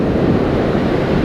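Churned-up sea surf washing onto a beach at South Lido after a storm, a steady, loud broadband roar with some wind buffeting the microphone and no voices.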